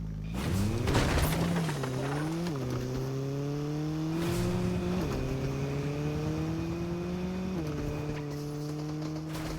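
A car in Fortnite drives with a steady engine drone, rising in pitch through several gear-like surges, loud and close, with no talk over it.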